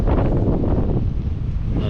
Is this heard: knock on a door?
no